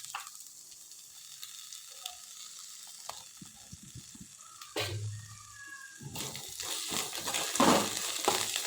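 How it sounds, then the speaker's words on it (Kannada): Idli masala with field beans and coriander leaves frying in a little oil in a pan, faint at first with scattered clicks and a stir, then a louder, steady sizzle building near the end. "ಇದನ್ನು ಸ್ವಲ್ಪ ಎಣ್ಣೆಲಿ ಫ್ರೈ ಮಾಡಿ ಹಾಕೋದ್ರಿಂದ ಟೇಸ್ಟ್ ಚೆನ್ನಾಗಾಗುತ್ತೆ ಅನ್ನೋದಕ್ಕೋಸ್ಕರ ಈ ರೀತಿ ಚೆನ್ನಾಗಿ ಫ್ರೈ ಮಾಡ್ತಾಯಿದ್ದೀನಿ"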